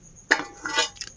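Home-cooked food, puran poli and farsan, being served onto a plate, with a few close clinks of utensil against dish in quick bursts, no talk.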